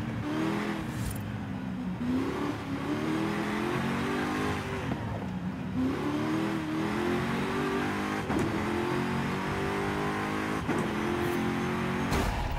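A tuned car's engine revs and shifts continuously through a run in Forza Horizon 5, loud and close, with rising and falling gear sweeps and no talking.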